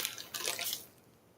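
Liquid is poured and splashes into a small milk glass pincushion mold, a brief hissing pour that trails off within about a second.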